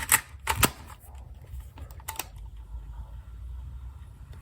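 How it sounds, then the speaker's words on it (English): Plastic clicks and clatter of a cassette tape being pushed into a Sony WM FX244 Walkman, a few close, crisp knocks near the start and another pair about two seconds in, over faint hiss. "I'll put a tape in."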